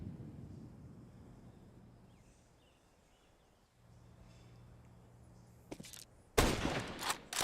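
Counter-Strike gunfire from a BLAST Premier Open Spring 2025 match, with a quiet low hum first and then loud, sharp bursts of shots near the end.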